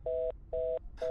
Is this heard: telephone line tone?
yes